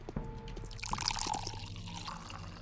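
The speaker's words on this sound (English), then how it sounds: "so I can fill them up with water." Water trickles and drips as empty bottles are filled in the video game Pathologic, a soft, continuous pouring with small splashy drips, quiet and close with no talk.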